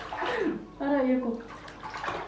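A person plays and splashes in a filled bathtub, with steady, close sloshing and washing water while a voice talks over it.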